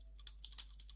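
Quiet close typing on a computer keyboard, a quick irregular run of about a dozen light key clicks over a low steady hum, with no talking.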